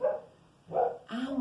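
Dogs bark three times in quick succession, moderately near but not loud, with a faint room hum underneath and no talking.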